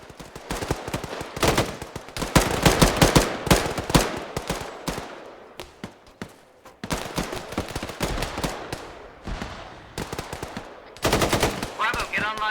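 Rapid bursts of automatic gunfire rattle loudly and repeatedly during a military field training exercise, dense volleys broken by brief lulls, with shouted voices mixed in.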